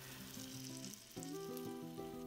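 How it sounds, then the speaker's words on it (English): One pound of sausage sizzles steadily in a preheated skillet for browning, a continuous close frying hiss with faint tonal sounds running underneath. "We're going to take our 1 pound of sausage and put it in a preheated skillet."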